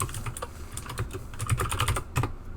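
Rapid typing on a bouncy computer keyboard, a steady flurry of close, loud key clicks running throughout with no talk over it.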